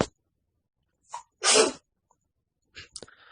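A single loud sneeze bursts out close by in an otherwise quiet room, preceded by a short intake of breath and followed by faint rustling.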